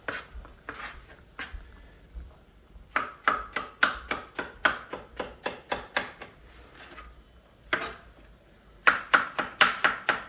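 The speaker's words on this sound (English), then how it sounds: "I'm simply going to chop down the centre like that" A knife chopping vegetables for vegan trofie alla primavera on a board, sharp, crisp strokes in quick rhythmic runs separated by short pauses, close and clear with no talking.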